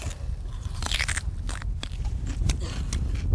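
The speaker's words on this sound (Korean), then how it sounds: "말 그대로 식감은 참외를 먹는 것처럼 정말 아삭아삭한 식감이 있고요" Close, crisp crunching of a bite into a fruit radish, white on the outside and red inside, followed by several chewing crunches in quick succession with no talking.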